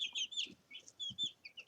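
Chicken clucks and soft peeping from a coop with young chicks, several short high calls scattered across a brief stretch, with a few low thumps and handling noises beneath, fairly faint and close.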